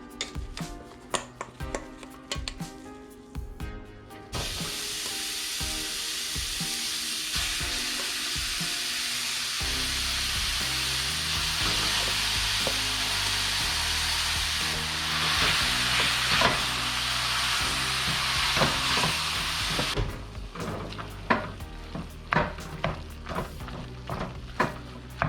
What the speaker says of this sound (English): No time to add my ground beef.